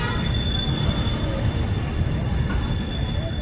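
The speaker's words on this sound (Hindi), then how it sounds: "डिपार्चर का संकेत हमारा हो चुका है। चलिए देखते हैं यहाँ से डिपार्चर।" The Mahakaushal Express pulling out of Jaitwar, a small three-platform station in Satna district, heard as a loud steady rumble of rolling wheels and carriages with a thin high squeal running through it.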